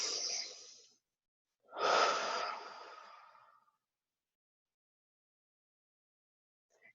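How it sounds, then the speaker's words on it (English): Two slow, deep breaths during guided meditation, an inhale then a longer exhale, close and soft in an otherwise silent room. "Deep breaths."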